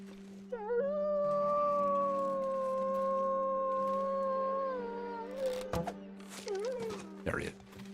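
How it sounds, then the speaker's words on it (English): A wolf in a survival video game lets out a long, clear, rising and wavering howl that holds for several seconds over a steady low hum, followed by scattered shorter yelps and soft game noises. "Okay, there's the wolf."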